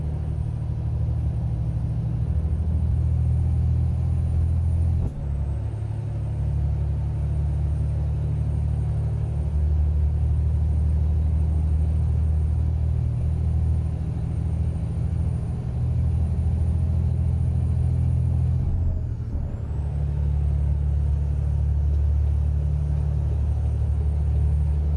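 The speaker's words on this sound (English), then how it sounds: "get that Airstream out of the way because I'm gonna mash the motor" A truck engine in American Truck Simulator drones as a loud, steady low rumble that holds a constant pitch throughout, with two brief shifts in tone along the way.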